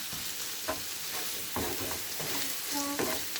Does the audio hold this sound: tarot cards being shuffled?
no